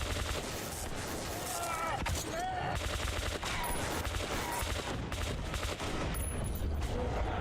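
Rapid, loud gunfire in Metro 2033 Redux, with dense overlapping bursts that run continuously under game sounds.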